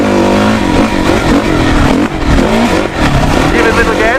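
A two-stroke dirt bike engine revs loud and close on a public riding area, its buzzing pitch rising and falling steadily with a brief dip midway.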